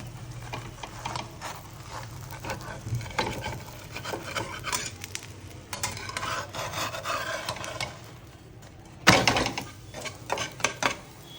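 Gujarati handvo being flipped in a pan, with repeated scraping and rasping of a spatula against the pan surface, irregular rubbing strokes and a louder scrape near the end, close and alone.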